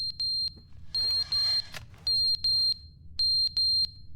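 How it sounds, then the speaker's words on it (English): A fire alarm in the video game The Stanley Parable gives out sharp, piercing electronic beeps in short paired bursts, repeating in a regular pulse with brief gaps between groups, loud and close with no voices. "Maybe it's a fire alarm, not the camera."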